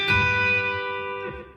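A B-bender electric guitar sounds a single sustained note on the B string at the 6th fret that bends upward, then rings on with clean harmonics before a second note is picked near the end and the sound fades.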